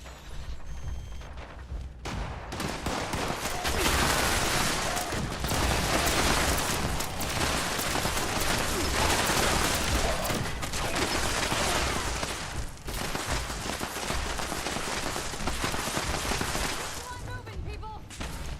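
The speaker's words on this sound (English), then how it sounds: "Why is it shooting at me?" Sustained gunfire and explosive blasts roar almost continuously in a video game set in a night wasteland, loud and dense with bursts and booms running from start to finish.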